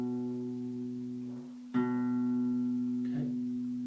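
A six-string guitar note is played with the index finger on the A string's second fret: a sustained, clear tone, plucked again midway and left ringing alone.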